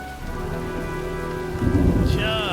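Steady rain with low rumbling thunder in the video game Heavy Rain, a continuous wash of downpour with a heavier swell near the end and a whistling tone layered in.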